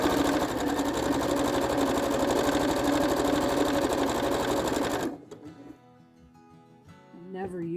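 A sewing machine stitching scrappy jelly-roll quilt strips runs loud and steady with a fast rhythmic whir for about five seconds, then stops, leaving faint clicks and handling noise.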